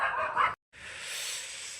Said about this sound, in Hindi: नाइट में कुत्ते बड़े भौंकते हैं भाई